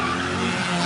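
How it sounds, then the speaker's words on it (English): Street racing cars spin high-speed circles in a crowded intersection, and a continuous loud tire squeal and skid rides over engine noise close by. "The intersection was filled with racers doing high-speed circles"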